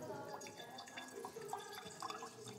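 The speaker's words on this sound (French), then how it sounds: "Avec ce qu'on appelle le robinet d'ouverture, qu'on appelle un chante-pleurs." Gewürztraminer wine runs from a chante-pleurs tap on a barrel at the Domaine du Bollenberg in Westhalten, giving a faint steady trickle with small drips and liquid splashes against a soft room background.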